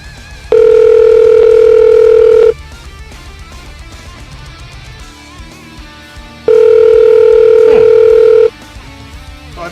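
Calling a cell phone on a telephone line brings two long, loud, steady ringing tones, each about two seconds, separated by a few seconds of quiet line noise.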